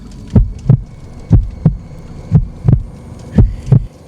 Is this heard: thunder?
no